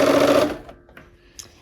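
Sewing machine running a 1/4 inch seam on a quilt block, a loud close buzzing burst that stops abruptly, followed by a few faint clicks and handling sounds.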